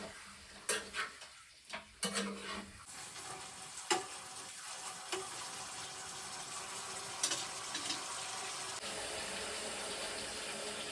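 Ingredients are stirred and mixed in a frying pan for a quick starter recipe, with a spoon scraping and knocking against the pan over a steady low sizzle of frying.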